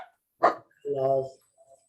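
A dog gives a single short bark followed by a longer yelping howl, close and isolated against near silence.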